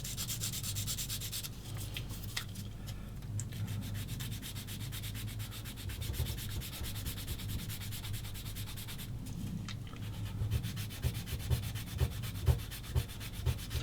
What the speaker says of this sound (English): I'm going to sand that.